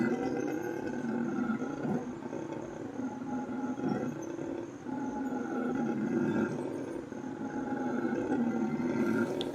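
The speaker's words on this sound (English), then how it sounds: "the howler monkeys do is the loudest sound an animal does on the planet" Howler monkeys howling at an animal sanctuary, a deep, continuous roaring chorus carrying from a distance and holding steady for nearly ten seconds.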